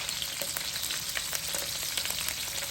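Tuyo dried fish fries in hot oil in a pan, a close, dense and steady sizzle with crackling pops throughout and no voices.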